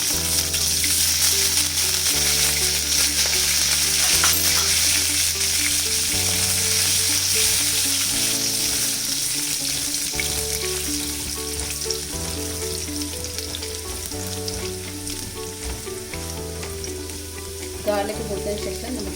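Garlic sizzles steadily in a frying pan while cooking for chicken pasta, a loud continuous crackling hiss that lasts throughout, with music playing underneath.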